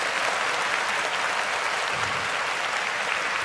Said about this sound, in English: Can I give everybody a shout out, round of applause?